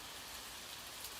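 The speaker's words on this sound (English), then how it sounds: "allow the gentle patter of rain outside to lull you deeper into relaxation" Gentle rain patters outside in a steady, dense hiss of soft drops, even and unbroken.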